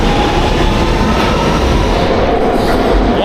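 A London Underground train rumbles loud and close, a continuous dense roar of wheels and carriage noise with no pauses, heard from inside or beside the moving subway car.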